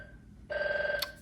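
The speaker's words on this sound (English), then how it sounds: "I have a home phone for those of you that don't know" A home landline telephone rings once in a steady electronic trill, clear and fairly close, starting after a brief stretch of quiet room tone and ending with a short click.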